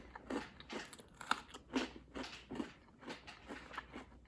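Close, crunchy chewing of a frosted donut-flavoured snack: a steady rhythm of moist bites and crackling mastication, about two chews per second, with no talking.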